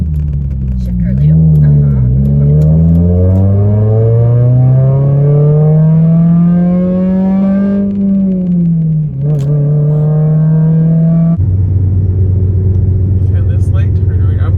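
A manual-transmission car with a faulty second gear drives along, its engine droning loud and close as the revs climb and settle, then shifting early into a steadier, lower hum.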